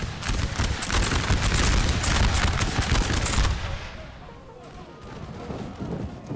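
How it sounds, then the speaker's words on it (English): Massed musket volleys from skirmishers in the Napoleon Total War battle crackle loud and dense for several seconds, then thin into scattered distant shots with low battlefield rumble. "we're going to start getting some shots from the skirmishers"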